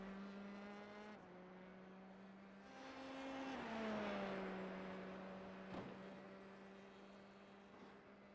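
A formula race car in a San Marino Grand Prix sim race hums along steadily, its engine note dipping and swelling as it takes the final corner, with a brief sharp transient near the end.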